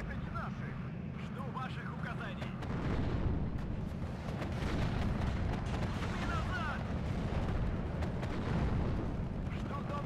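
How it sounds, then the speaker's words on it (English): BMP3 autocannon and missile fire in the game WARNO: a dense, continuous barrage of booming shots and bursts, loud and steady throughout, with faint voices beneath. "Use its autocannon HE gun against infantry and then fired its missile against the thingy-magic"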